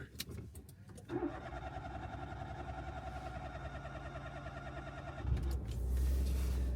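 A car's starter cranks and the engine catches, settling into a steady mid-pitched idle before the revs swell louder near the end.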